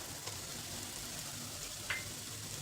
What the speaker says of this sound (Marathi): तर आता कांदा छान परतलेला आहे, जास्त नाही परतू द्यायचा.